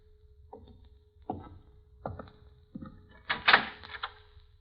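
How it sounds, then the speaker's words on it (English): A door is handled in an old-time mystery radio drama: a series of knocks or rattling thumps, four or five spaced sharp hits building louder toward the end, with a faint steady hum beneath. "Open the door, Vince"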